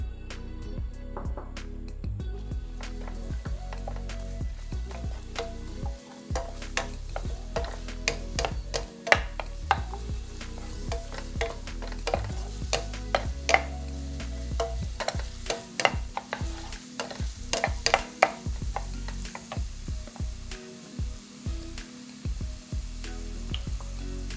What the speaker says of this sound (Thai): ผัดหอมใหญ่กระเทียมในน้ำมันมะกอกประมาณ 3-4 ช้อนโต๊ะ ผัดจนหอมเริ่มใสแล้วก็นุ่มดีนะครับ